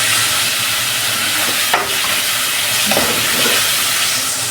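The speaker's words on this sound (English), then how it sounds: "we are not cooking these vegetables; we are just steaming them" Vegetables steam in a pan for a rice dish, giving a loud, steady hiss with a low rumble beneath and a couple of brief clinks or stirring scrapes partway through.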